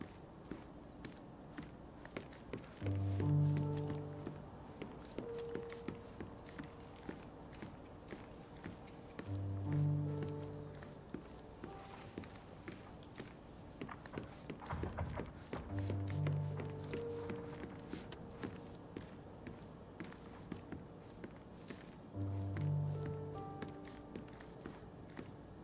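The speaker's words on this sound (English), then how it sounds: "I heard footsteps upstairs a second ago" Footsteps upstairs in Sherlock Holmes Chapter One, a series of soft muffled steps tapping overhead in short bursts separated by quiet pauses, with faint ambient tones between them.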